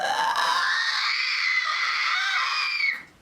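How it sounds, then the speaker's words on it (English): A woman's sustained vocal scream, loud and bright, held steadily for about three seconds with a slight rise in pitch before cutting off abruptly, with no other sounds around it. "Let me see if I can get you a nice scream."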